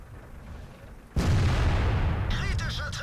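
World of Tanks gameplay: a sudden loud tank cannon blast with a heavy booming rumble that lingers for about two seconds, followed by a metallic, ringing impact from the hit.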